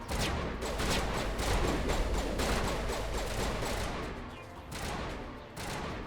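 Sustained bursts of video game gunfire rattle on loud and dense for several seconds, rapid volleys overlapping with a brief lull near the end before resuming.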